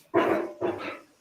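A 14-year-old miniature pinscher gives two quick, close barks in a row, sharp and fairly loud, with nothing else behind them.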